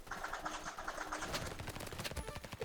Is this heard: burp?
no